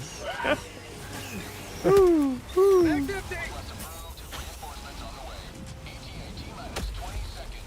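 A person imitates an owl with two loud, low hoots that bend downward, close to the mic, against a busy game background with other voices murmuring.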